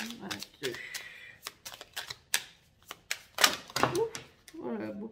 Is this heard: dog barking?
no